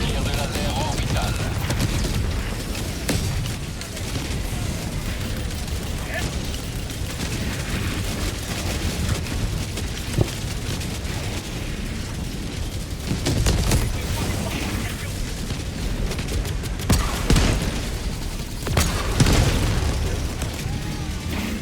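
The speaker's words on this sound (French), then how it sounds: "Tir de laser orbital." Orbital laser strike in a cooperative shooter game against bots, with a dense, continuous barrage of booming blasts and crackling bursts over about twenty seconds and voices talking over it.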